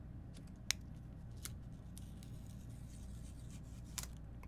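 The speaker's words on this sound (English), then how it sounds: "we're going to go ahead and peel up our sticker here" An adhesive sticker peels up from a Galaxy Z Flip 4 screen protector, giving faint, close crackles and a few sharp ticks over quiet background hiss, with no talking.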